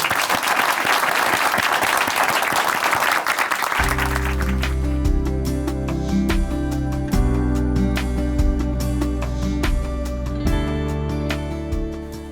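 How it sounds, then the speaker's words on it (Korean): A church audience applauds a guest about to give a testimony in a televised program; brisk clapping fills the opening seconds, then gives way to loud instrumental music with a steady beat. "박수로 오시겠습니다."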